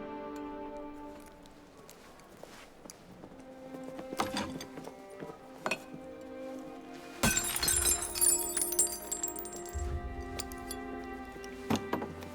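Glass shattering in Assassin's Creed Syndicate, a sharp crash of breaking panes that bursts loud about two-thirds through over a musical score. Bright shards ring out after the impact, and a second smaller crack follows near the end.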